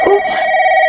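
A telephone in a radio drama rings with a loud, steady electronic tone that holds unbroken after a short burst of noise at the start.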